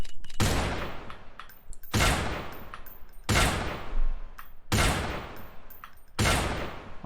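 Rapid bursts of gunfire in the VR shooter Special Force VR: Infinity War: five loud, sharp volleys spaced about every one and a half seconds, each with a ringing decay, no talking.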